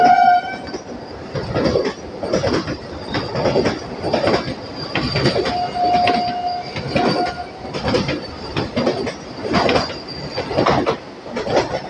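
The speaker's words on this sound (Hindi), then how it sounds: "चली गई भैया अपनी पटना एनजेपी वंदे भारत ट्रेन।" Patna–NJP Vande Bharat express train rushing past a station, a loud continuous rumble with rhythmic wheel clatter and brief squeals, close by and steady throughout with no talking.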